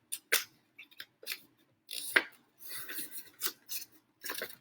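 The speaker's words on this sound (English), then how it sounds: "And then I'm folding this in" Paper being folded and creased along an edge by hand, close up, with a series of crisp crinkling rustles and sharp scrapes coming in irregular bursts separated by short quiet gaps.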